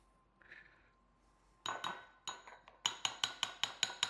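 A tablespoon clinks against bowls while cookie icing for Italian Easter cookies is divided, first a few scattered knocks, then a quick, regular series of bright, ringing taps close by.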